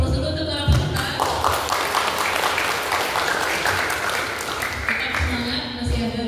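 An audience at a quiz competition breaks into sustained clapping that lasts several seconds, with voices talking over it.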